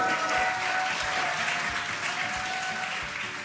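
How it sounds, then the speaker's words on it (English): Crowd cheering and applauding steadily as the SpaceX Dragon Freedom capsule descends under drogue parachutes back to Earth, a dense continuous roar at even loudness with no clear talk over it. "You can hear the crowd as Dragon Freedom continues to make its way back to planet Earth"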